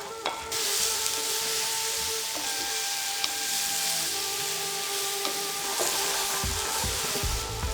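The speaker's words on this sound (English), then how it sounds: "Now I'm going to add all the tomatoes that I have chopped and green chilies." Chopped tomatoes and green chilies hit a pan of cooking vegan eggplant curry, setting off loud steady sizzling and frying with occasional stirring clinks and scrapes, no voices.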